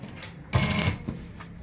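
Domestic sewing machine running a brief burst of stitching, laying a second line of stitches over an earlier seam while sewing a round hem; a short loud whir of about half a second, then a small thump, with no talking.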